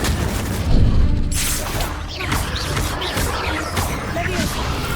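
A fire spell is cast in the Hogwarts Legacy video game, giving a burst of boomy crackling flame with a heavy thud up front, followed by several sharper whooshing impacts and rumbling combat noise.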